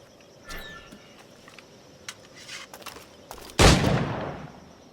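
A flintlock firearm fires in the pirate-era game Assassin's Creed Black Flag. One loud, sharp blast booms and then trails off, with faint clicks and shuffles scattered before it.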